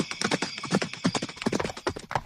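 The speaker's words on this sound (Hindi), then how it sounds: "वो पूरी रात अपने घोड़े को दौड़ाता रहा।" A horse gallops in a cartoon folk tale as a rapid, close run of clip-clop hoofbeats, loud and uneven, filling the whole stretch without any voices.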